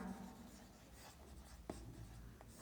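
Marker or chalk writing on a board during a chemistry lesson: faint, soft scratchy strokes with a few short taps, quiet and close, no talking.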